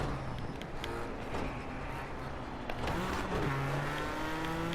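A race car in a racing video game runs at steady engine drone, with a pitch drop and step as it downshifts into a corner and faint tire noise, alone without talk.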